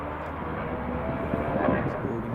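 A Loganair Saab aircraft at Glasgow Airport gives off a steady, broad engine roar that holds at an even level without breaks.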